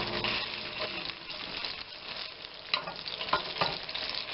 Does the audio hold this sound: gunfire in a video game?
no